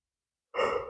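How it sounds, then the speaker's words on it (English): A single breathy yawn opens abruptly after silence, close and fairly loud, sustaining an airy voiced exhale through the end. "Again, with the yawning."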